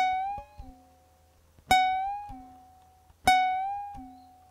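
A ukulele note played on the bottom string at the 9th fret is bent upward and eased back down, repeated three times in a row, each pluck clear and ringing on its own.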